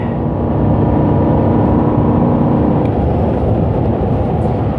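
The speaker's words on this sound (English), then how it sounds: "let me pass this truck real quick" Car accelerating on a road to pass a truck, a loud, continuous engine roar with road and wind noise that holds steady and then eases slightly.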